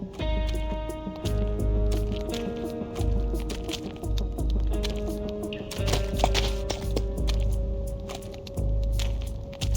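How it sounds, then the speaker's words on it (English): Staggering, limping footsteps in Reverse: 1999, uneven clunking steps mixed into a dense bed of game music and ambience, moderately loud and continuous. "Staggering footsteps, almost limping."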